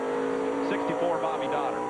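NASCAR Busch Series stock cars racing at South Boston in 1995, a steady, droning engine roar with a rising pitch sweep as cars pass, heard under a commentator's continuous talk.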